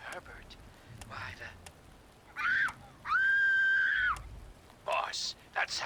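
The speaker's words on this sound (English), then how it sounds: "that sounds like a kid screaming, and it's coming from those ruins" A child screaming from ruins in the Fallout video game: one sustained, wavering high cry of about a second stands out, with shorter strained vocal bursts before and after it.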